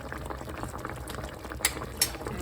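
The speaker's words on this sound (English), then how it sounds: "Bubbling away." Sweet and sour sauce bubbles in a pan, a dense close simmering burble with a couple of sharper pops near the end.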